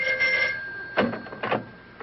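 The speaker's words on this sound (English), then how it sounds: "when the phone rings" A telephone bell rings in a 1949 office, a steady tone for about half a second, then two further ring bursts after short pauses, fairly close and clear with no talking.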